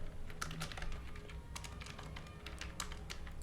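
Rapid clicking of fingers typing on a computer keyboard, a steady irregular patter of crisp keystrokes heard close up with no talking.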